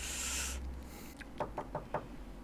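Four quick knocks on a door in Breaking Bad, season 3 episode 12, spaced evenly after a brief hiss of background noise, moderately close and clear with no talking.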